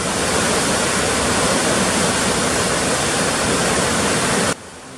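Flowing river water, a dense continuous rushing wash like a stream or small waterfall, loud and steady throughout with no voices, cutting off abruptly near the end.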